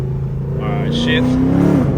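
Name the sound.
Dodge Charger shifting gears with paddle shifters, engine revving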